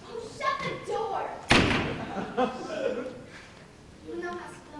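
A door slams shut on a school theater stage during a Romeo and Juliet performance, one sharp, loud thud in the middle while actors speak before and after.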